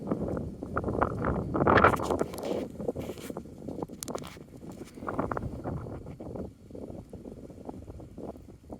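Gusty wind across an orchard of fruit trees in spring, buffeting the microphone in loud rushing bursts that swell and fade, with rustling and a few footsteps.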